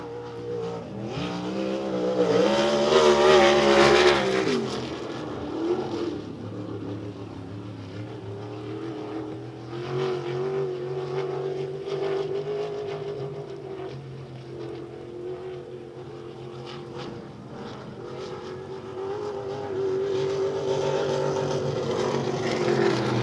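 Race cars lap the oval at Devil's Bowl Speedway during a dirt track racing event, engines roaring loud and steady from start to finish, with a louder surge as a car passes close, then a sustained drone of several cars circling.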